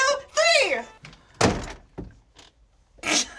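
A closet door is handled and pulled open, giving a couple of solid thunks and a brief sliding or knocking sound, close by, between bursts of nearby voices.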